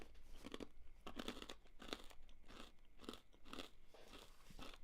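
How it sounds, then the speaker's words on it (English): Someone chewing a crunchy mushroom snack close to the mic, a quiet but steady series of crisp bites and crunches at a regular pace, with no talking. "I should sample the crunch from this mushroom snack"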